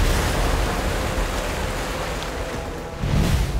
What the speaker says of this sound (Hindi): अरब सागर की खूबसूरत लहरों के बीच